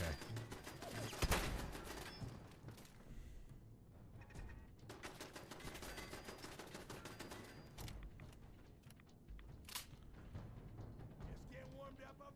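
Bursts of rapid gunfire from a gun turret in Fallout 4, sharp repeated volleys in clusters over a low game background, fairly quiet overall.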